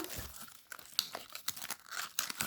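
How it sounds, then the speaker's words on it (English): Paper crinkles and crackles sharply as it is creased and reverse-folded into an origami fighter jet, with quick, irregular close-up rustles and snaps. "Then you're going to inside reverse fold this section up"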